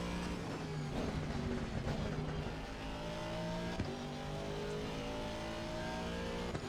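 Race car engine in a sim racing game lapping Brands Hatch in practice, with a loud sustained whine shifting pitch through gear changes and corners, steady and close.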